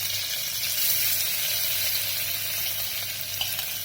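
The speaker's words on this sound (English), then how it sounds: "As this is enough sizzled, we will put our ginger, garlic and chili paste." Ginger, garlic and chili paste sizzle in a pan over medium heat, a dense, even frying hiss that stays steady and close with no voices.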